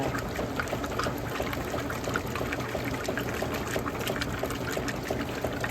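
Water sloshing and pouring inside a running vintage Whirlpool washing machine fitted with new parts, a continuous close churning wash with a faint steady mechanical whine above, no talking.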